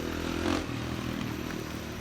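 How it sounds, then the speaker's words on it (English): Dirt bike engine droning steadily at moderate distance along a mountain ditch road, a continuous mid-pitched hum with a brief swell near the start, no talking. "It's probably that dirt bike we saw earlier."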